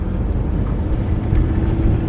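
Car engine idling and driving at low speed, a steady close low rumble inside the cabin with no other notable sounds.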